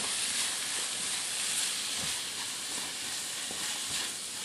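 Onion fries in a pan for a baby bok choy and meat dish, a steady close hissing sizzle that holds evenly throughout with no talking.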